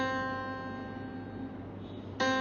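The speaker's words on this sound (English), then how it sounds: "Without a sharp, C will sound like this." A single sustained C note rings out on a keyboard instrument, steady and fairly quiet, with a fresh note struck just before the end.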